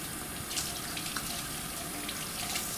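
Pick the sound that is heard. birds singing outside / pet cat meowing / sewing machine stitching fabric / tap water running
tap water running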